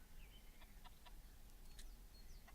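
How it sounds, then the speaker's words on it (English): A chicken in Counter-Strike: Global Offensive gives faint, scattered clucks and short chirps over a steady background hum. "Chicken wants to get in on the action."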